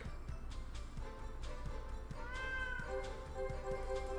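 A Maine Coon cat meows a few times, drawn-out tonal calls rising and falling near the middle and end, fairly quiet over a low background hum with soft ticking sounds.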